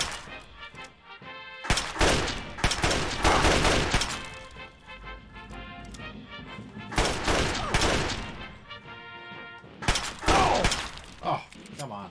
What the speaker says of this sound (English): this gun is so freaking slow